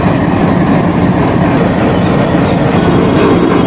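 A locomotive rolls in to couple onto the Danapur–Jogbani Intercity Express at Forbesganj junction, giving a loud, steady rumble of rail and wheels with faint clickety-clack and no voices.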